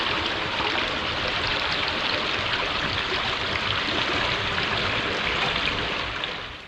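Chalk stream river flowing steadily, a continuous broadband rush of water close by at an even level throughout, with no voices.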